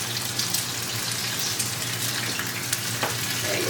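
Eggs frying in hot oil in a pan, a loud continuous sizzle with spattering pops and a few sharper crackles, with no talking.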